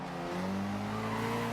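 A car drifts in the racing game Forza Horizon 2, its tires squealing in a steady, sustained high whine over a constant engine drone, loud and close throughout the short moment.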